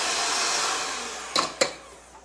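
A kitchen electric mixer whirs steadily at high speed while mixing pumpkin cream cheese muffin batter, with two short louder bursts near the end as it switches off.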